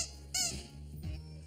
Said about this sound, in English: the perennial favourite is still the squeaky toy